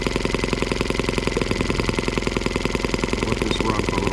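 A rebuilt Suzuki M12B engine, fitted with new main bearings, runs steadily while belted to a generator under load test, giving a loud, even mechanical drone with rapid regular firing pulses and no talk over it.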